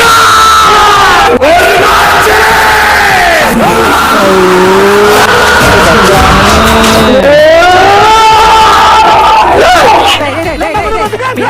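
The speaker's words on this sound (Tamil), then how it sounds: "படத்தோட டைலாக்ஸ்லாம் வந்து போன்ல கேக்குறப்ப இவ்வளோ கத்துறாங்களே" A crowd roars, shouts and cheers loudly at Kanguva film dialogue, a continuous excited din with tonal swooping sounds woven through, sustained for most of the span before easing near the end.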